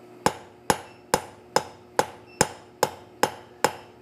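A rounding hammer strikes hot steel on an anvil in a steady, even rhythm of nine sharp ringing blows, each decaying quickly under a low background hum, close and moderately loud with no speech.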